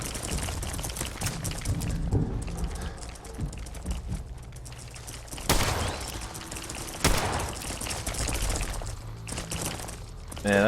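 Scattered gunfire in Fallout 4 rings out as a string of irregular shots, with two sharp, louder bangs standing out over a busy, clattering game background.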